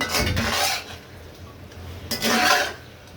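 Fried onions go into a pan of beef chap bhuna, giving two short bursts of scraping and metal-on-pan clatter from a spoon, with quieter stirring between them.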